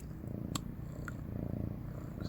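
A cat purrs steadily and close by, a low continuous rumble with a few faint clicks over it and no talking.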